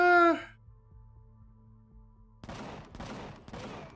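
Cannon turrets fire in Empyrion Galactic Survival, heard as three quick, sharp bursts near the end after a brief tonal blip and a quiet low hum.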